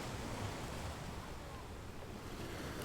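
Ocean waves washing in a steady, soft wash of surf with a windy hiss, continuous and fairly faint, without distinct breaks.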